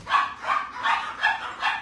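Dogs barking at the doors, five evenly spaced, sharp yipping barks at moderate volume with no voices around them.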